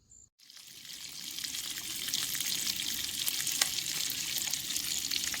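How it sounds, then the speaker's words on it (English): Applewood bacon frying in a pan at a morning campsite, a steady close crackling sizzle with faint stirring, rising after a brief silent start and holding to the end. "There ain't nothing better than the smell of applewood bacon cooking in the morning"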